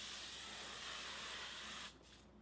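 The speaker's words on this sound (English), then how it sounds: "It's an aerosol, but should be like a really even mist." L'Oreal aerosol setting mist hisses in one steady, even spray for about two seconds, then cuts off to quiet room tone.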